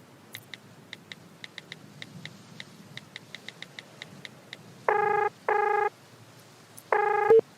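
A phone call being placed: a quick run of soft dialing clicks or key taps, then three loud ringback tones, the first two back to back, a pause, then the third, with no talk over them.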